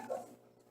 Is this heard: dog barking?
yes